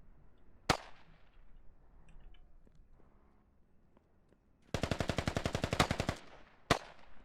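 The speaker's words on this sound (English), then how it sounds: "He's just having fun shooting his PPSH" PPSh submachine gun fired in the military shooter Squad during a large convoy battle with insurgents: a single sharp shot, then a rapid sustained burst of roughly a second and a half, then one more crack, with quiet ambience between.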